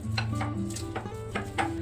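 Semolina and yogurt stirred in a bowl for an eggless mawa suji cake: a spoon scraping and tapping against the bowl in a steady rhythm, close, with a soft hum underneath.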